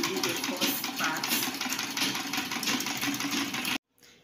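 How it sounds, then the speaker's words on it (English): Sewing machine running steadily while stitching the straight seams of elastic-waist shorts, a continuous close mechanical whir with rapid needle chatter that cuts off abruptly near the end. "So you start sewing, you do the straight line down, that's how you sew it."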